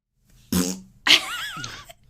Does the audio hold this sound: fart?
yes